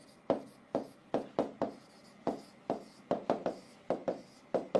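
Writing on a board during a chemistry lecture on the hydrogen spectrum: about a dozen sharp, close scratching strokes in an uneven rhythm, each starting abruptly and fading quickly, with no talking over them.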